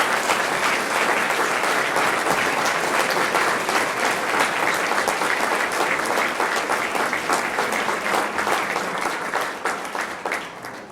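Sustained audience applause fills the room at a homecoming alumni awards reception, a dense, even clapping from many people that holds steady for about ten seconds before beginning to fade.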